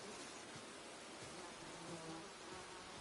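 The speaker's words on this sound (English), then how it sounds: "The bees around the honeycomb and the stump." Bees buzz around a honeycomb and tree stump in the samurai game Ghost of Tsushima, a dense steady insect drone over soft wind and ambient noise, with no talk.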